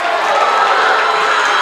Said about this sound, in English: Crowd not liking the call there